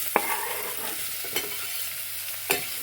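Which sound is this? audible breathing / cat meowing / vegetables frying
vegetables frying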